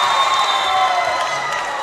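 A crowd at a university netball match protests an uncalled travelling violation, with a steady, dense roar of voices and shouts filling the whole moment at close range.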